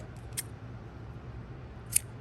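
Two quick, crisp scissor snips cutting a bracelet cord, faint and close against a quiet background.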